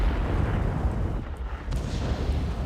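A deep, rumbling blast from a tank's ammo rack detonating in World of Tanks, a sustained heavy low boom filling the whole moment with no talk over it.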